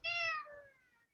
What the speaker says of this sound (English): Somebody's kitty's on here